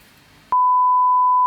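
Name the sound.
notification sound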